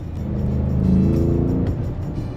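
An Audi SQ7 SUV accelerating hard in drive, its engine note rising into a loud, steady, close-up roar that swells and holds for a couple of seconds with no talking.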